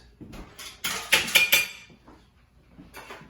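Ice cubes clink and rattle against a glass while a cocktail is built, a cluster of sharp bright clinks in the middle followed by a few softer taps, with no talking.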